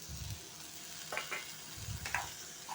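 Sliced bitter gourd (kartule) dropped into a hot frying pan with oil and chillies sizzles in short bursts, with a few clinks from stirring, fairly close and moderately loud.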